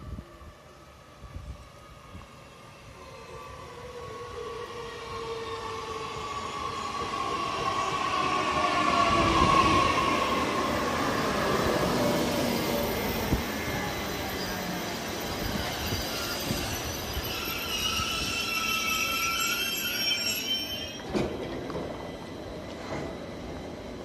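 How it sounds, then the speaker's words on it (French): A TER regional train pulls into a station bound for Rouen Rive Droite, its rumble swelling as it nears, with long squealing wheels and brakes, then settling into a hum and a final sharp clank. "Le voilà qui arrive en gare."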